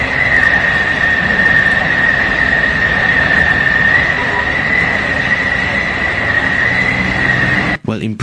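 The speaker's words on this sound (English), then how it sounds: "Listen to the gas coming out." Gas escapes from damaged rail wagons with a loud, steady hiss that runs continuously for several seconds, joined by a high sustained whistle-like tone and a brief disturbance near the end.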